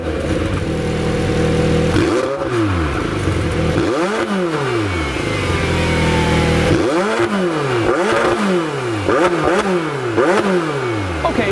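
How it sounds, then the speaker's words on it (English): A parked McLaren 720S with the sport exhaust is revved repeatedly. Several loud, close engine bursts sweep up and fall back, growing quicker toward the end, with a clattering idle in between. No voices are heard. "And then there is maybe this car's most appreciated feature, and that would be the sport exhaust."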